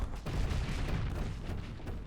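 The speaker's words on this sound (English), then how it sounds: "switch over to the shock cannon shells" Shock cannon shells firing in the space combat game Starsector, a dense rumbling barrage of booming impacts that stays loud and continuous throughout, with no voices.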